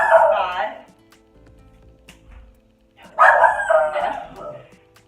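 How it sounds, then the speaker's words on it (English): A small pet dog named Chico barks in two bursts of rapid, yappy barks close by indoors, separated by a quiet pause. "And then my dog barks every time I make these videos"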